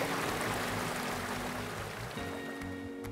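A small waterfall among old mill ruins rushes in a steady, dense wash of splashing water, close and continuous with no voices.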